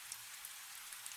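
Steady rain falls evenly and continuously, a soft dense hiss with scattered faint drop ticks and no other sounds.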